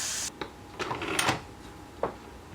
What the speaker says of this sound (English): And I open the lid away from me so I don't get steamed in the face.